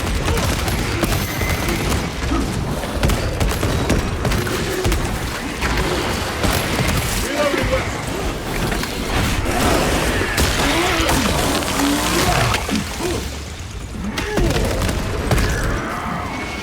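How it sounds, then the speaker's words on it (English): A melter bomb goes off in Warhammer 40K Space Marine 2 amid relentless combat: heavy booms and rapid gunfire pound together at close range without pause, with distant voices faintly underneath. "Melter bomb deployed."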